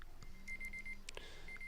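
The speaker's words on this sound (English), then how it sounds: "We gotta kill that alarm." An alarm beeps in a quiet room at home, a faint electronic tone repeating in short rapid pulses with brief pauses between runs, alongside soft clicks and low background noise.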